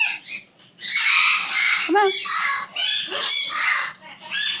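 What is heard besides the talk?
pet parrot Buttons squawking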